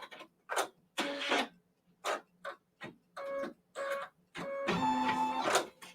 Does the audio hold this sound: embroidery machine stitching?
yes